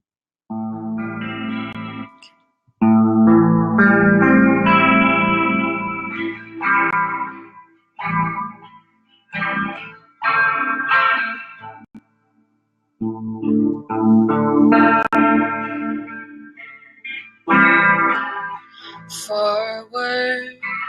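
Elena Lopez's song "Essays" plays loud and full, with a sung melody bathed in chorus, distortion and echo effects, broken by several short pauses before the music surges back.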